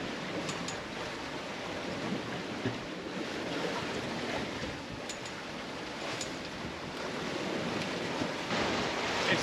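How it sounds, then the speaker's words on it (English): A strong Pacific wind of about 20 knots gusting to 24 roars across the open sea from a sailing boat, with waves rushing and washing steadily around it. The sound is loud and continuous, with light gusty buffeting on the microphone. "still 20 knots of wind, gusting up till 24, and but the waves are a bit less"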